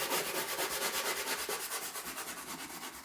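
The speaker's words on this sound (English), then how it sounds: "If I can find a sanding block, we're going to just sand this down a little bit" Painted wood, chalk-painted furniture, is sanded by hand with a sanding block in steady rhythmic back-and-forth strokes, close and even, a soft scratchy rasp repeating about five times a second without talk.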